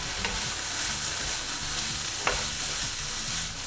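Vegetables for vegan fried rice sizzle steadily in a hot pan while being sautéed, a dense, continuous frying hiss with occasional stirring scrapes and clinks, close and loud, no voices.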